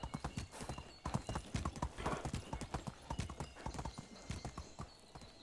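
Horse hooves clip-clop steadily in Medieval Dynasty, a rapid run of close, even hoofbeats that continues through most of the stretch over a low game ambience.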